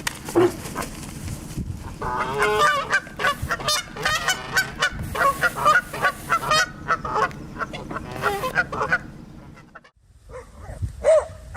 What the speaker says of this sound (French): Les oies canadiennes ne sont vraiment pas le genre d'oiseaux que l'on peut approcher sans précaution pour les observer